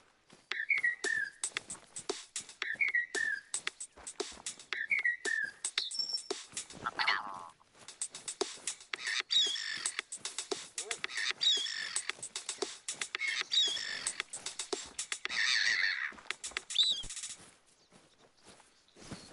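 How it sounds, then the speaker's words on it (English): Recorded bird calls are arranged into a short, playful tune, with repeated chirps and whistles over a busy clicking rhythm. "We recorded the call of some birds and made this."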